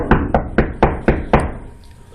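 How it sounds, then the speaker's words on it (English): Six loud, evenly spaced knocks strike a door on a stage set, close and resonant, followed by a brief quiet tail. "there'll be a huge knock at the door"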